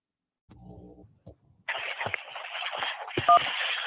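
A phone call on a call-in radio show connects: a short dial-tone-like chirp, a brief click, then a steady band of line noise and hiss with a few clicks and faint tones.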